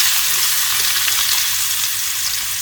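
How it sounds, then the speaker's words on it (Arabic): Finely minced onions sizzle loudly and continuously in hot ghee and butter, a dense, steady frying hiss up close with no speech over it. "معانا بصلتين مفرومين فرم ناعم، نبدأ ننزل بيهم"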